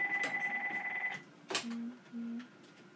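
A landline telephone rings with an electronic trilling tone that cuts off, followed by a sharp click and two short lower beeps, all indoors and fairly close.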